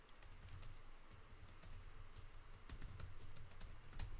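Steady, quiet clicking of keys on a computer keyboard, with fast, irregular keystrokes running continuously throughout.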